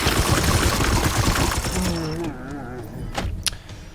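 Rapid bursts of automatic gunfire rattle in the Warhammer 40,000: Chaos Gate Daemonhunters video game, a dense volley up front that thins out, followed by a voice and a single sharp crack.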